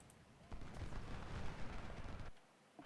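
Artillery fire in the Ultimate General Civil War game: a dense, rumbling barrage of booms blending into one continuous roar for about two seconds, then cutting off abruptly, with a faint thump near the end.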